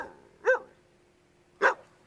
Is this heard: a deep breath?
no